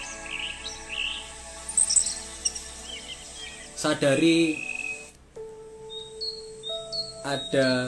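Birds chirp in short, scattered bursts in a calm outdoor meditation setting, fairly faint behind a person speaking in a steady voice.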